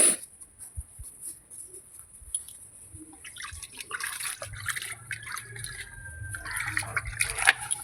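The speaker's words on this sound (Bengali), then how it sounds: "দেখো কি সুন্দর করে এখন এটাতে জল মেশানো হবে।" Water trickles and splashes into a container as garden pest spray is mixed, starting faint and sparse, then becoming a fuller, continuous pour with small drips near the end.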